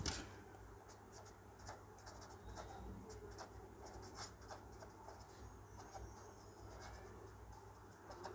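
Chalk or marker scratching across a board during a chemistry lesson, soft intermittent strokes in short bursts over a faint steady hum in a quiet room.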